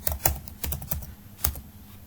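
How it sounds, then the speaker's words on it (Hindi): Keystrokes on a computer keyboard typing a search term, a few quick irregular clicks in short bursts with pauses, close and clear with no talking. "यहां पर सर्च पे मैं लिख देता हूं ट्रांसफर वाइज"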